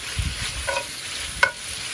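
Bacon frying in a pan gives a soft, steady sizzle close by, broken by a couple of brief utensil clicks.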